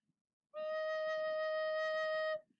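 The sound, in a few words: recorder playing low E note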